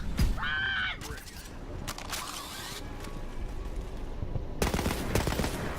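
Rapid gunfire from a running gun in Borderlands 3, bursts of shots crackling loud and close with mechanical clatter and a short whirring tone, continuing across the game scene.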